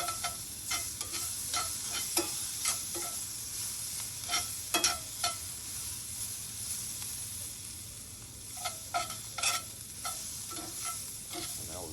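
Food sizzling in a Lodge cast iron skillet at a truck campsite, a soft continuous fry hiss broken by repeated scraping and clinking of a utensil against the iron.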